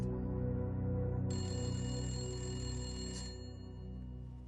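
A telephone rings in a full-motion-video game, a sustained bright electronic trill held steadily over a low musical bed, rising in intensity partway through and then fading.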